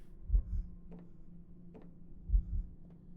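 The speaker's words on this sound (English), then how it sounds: "I am low HP, and so I can hear my heartbeat" Low-health heartbeat in the game Zero Protocol, two deep, muffled double thumps about two seconds apart over a soft electronic hum, with faint ticking blips in between and no talking.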